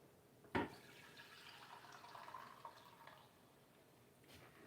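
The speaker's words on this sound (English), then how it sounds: "let me pour this back in here" Whey liquid poured back into a pan in a home kitchen, with a brief splash at the start and then a soft, faint trickle that tapers off.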